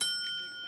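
A small hand bell rings out for Tio Salamanca in Better Call Saul, one bright tinny ring that sustains for under a second while a voice talks over it.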